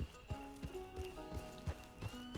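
A golden horse in the video game Dune: House Harkonnen trots with steady, evenly spaced clip-clop hoofbeats, close and clear, over a faint background with tonal game sound.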